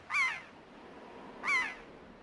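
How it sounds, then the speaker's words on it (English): Two shrill, wavering seagull cries from the Wind Waker video game, built from altered elephant sounds, sound at an even gap, each a short, bright, squealing call standing alone over quiet background. "For reference, this is what seagulls sound like in Wind Waker."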